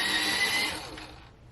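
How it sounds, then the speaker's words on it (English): An electric pencil sharpener grinds down a Prismacolor non-photo blue colored pencil, a close, buzzing whir that holds steady for a moment and then fades as the motor winds down. "I tell y'all, that's my favorite pencil sharpener now."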